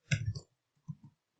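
Keyboard typing while writing C++ code, a quick cluster of close key clicks followed by a short pause and two softer taps, quiet and with no voice over it.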